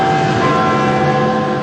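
Church bells ring in a dense, sustained peal of overlapping tones, loud and continuous for under two seconds.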